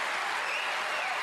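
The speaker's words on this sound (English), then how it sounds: "The crowd certainly were thrilled by that one, and even Jiahui is applauding it." A snooker crowd in the arena at the German Masters final bursts into steady, full applause, sustained throughout with no break.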